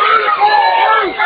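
A softball crowd reacts to a disputed out call at home plate, a loud, sustained roar of many voices with shouting that swells and holds.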